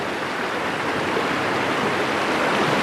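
River water pouring down past a rock in Graveyard Canyon in the San Gabriel Mountains, a dense, steady rushing roar, close and loud, with no voices.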